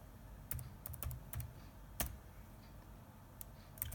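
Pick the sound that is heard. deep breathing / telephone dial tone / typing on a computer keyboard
typing on a computer keyboard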